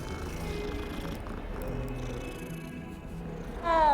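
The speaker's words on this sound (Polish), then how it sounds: "O, kotek." Steady low purring from a cat in the video game Hogwarts Legacy, a continuous soft rumble with game ambience that swells near the end as a brighter chime-like tone enters.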